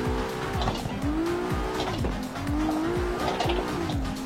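A car skids through a clutch-kick drift, tires squealing steadily over a revving engine whose pitch rises and dips for about four seconds, close and continuous.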